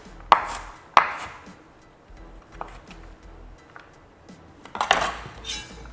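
Knife chopping through a big carrot on a cutting board in a home kitchen: a few sharp, separated thunks near the start and a cluster of cuts toward the end, with quiet gaps between.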